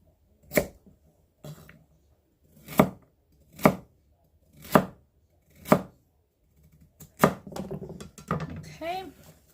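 Knife slicing vegetables for minestrone soup, about six sharp, separate chops on a cutting board at an uneven pace, followed by a quicker cluster of cuts and faint board clatter, close up.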